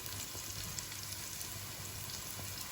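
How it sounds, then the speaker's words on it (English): Onions sizzling in a pan over a low flame, a steady close frying hiss with a constant crackle throughout and no talking. "Let that sizzle away."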